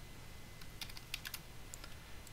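Brief burst of computer keyboard typing as a short command is keyed in during a live-streamed game raid, several soft, quick clicks in a cluster against constant low hiss.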